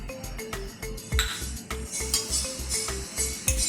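Jaggery being stirred into about a glass of water in a pot on the stove, a spoon scraping and clinking against the metal in a steady, close rhythm.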